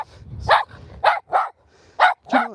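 Several dogs bark and yip in short, loud bursts while playing during a walk in Scotland, five or so sharp barks spaced irregularly close to the listener.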